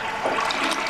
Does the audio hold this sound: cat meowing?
no